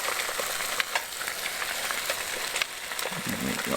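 Eggs frying in a pan at a campsite, a steady close sizzle and crackle running throughout with occasional sharper pops.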